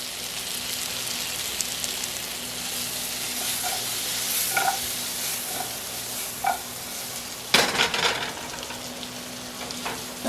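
Kohlrabi slices fry in a pan over medium-high heat, a steady crackling sizzle with scattered pops and a louder burst of spattering near the end, no voices.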